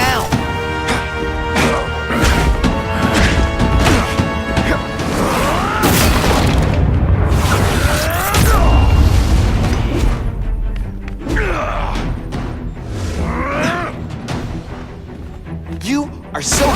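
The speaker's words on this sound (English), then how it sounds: "Who gets left out when I use the seismic blast?" Seismic blast explosions in The Amazing Spider-Man 2 video game during the Kingpin boss battle, heavy booming impacts and crashes amid dense game noise and music, loud and continuous, with character voices talking over them.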